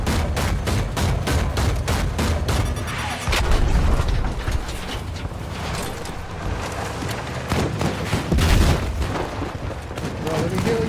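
Gunfire in a video game: rapid, repeated shots and booming bursts fill the scene at close range, sometimes overlapping, with voices talking over the shooting.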